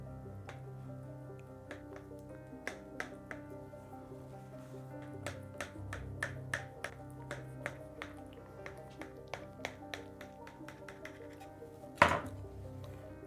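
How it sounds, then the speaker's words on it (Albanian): A knife cuts through leek and cottage cheese byrek made with hand-rolled pastry sheets, giving a steady run of crisp taps on a board under soft background music, with one louder clack near the end. "Ja filloj e pres"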